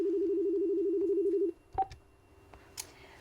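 A steady telephone tone holds for about a second and a half, then stops, followed by a few faint clicks and soft line noise as a call connects during a call-in interview.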